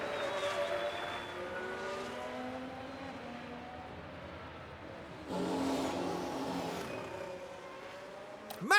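A Formula 1 car crosses the finish line at the Monaco Grand Prix in the video game F1 Manager 2023, its high engine whine rising and falling, with a louder swell as a car passes close by.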